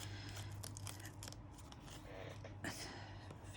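Scissors snip paper in short irregular cuts for a junk journal, close and quiet, with soft rustling of the paper between cuts.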